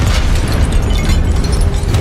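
A Confringo blasting spell explodes in the video game Hogwarts Legacy, a loud, dense burst of roaring blast noise that fills the moment with continuous crackling energy.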